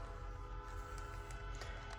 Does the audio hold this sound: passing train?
yes